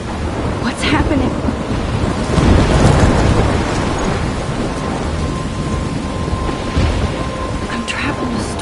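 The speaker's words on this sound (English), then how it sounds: "I'm trapped in a storm?" Heavy rain pours steadily during a thunderstorm in the video game Life is Strange, with rolling thunder swelling near the middle and a few sharp crackles over the constant downpour.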